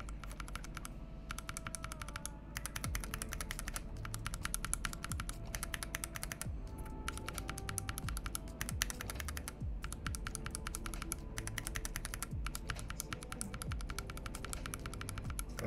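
Mechanical keyboard switches, a Zeal Creamio with Novel Keys Cream stem and a Telio, are typed on in a steady rapid clatter of crisp, close keystrokes with short pauses, no talking.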